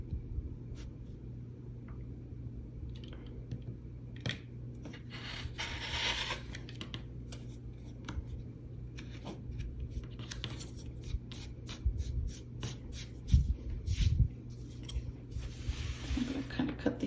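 Scissors trim the yarn fringes of a handwoven space-themed mug mat in a series of short, close snips and light rustles, steady and unhurried.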